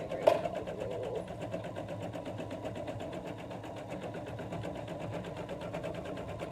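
A sewing machine runs steadily with a continuous rapid mechanical whir throughout, during a ball snowman sewing project, with a brief knock at the start and faint talk underneath.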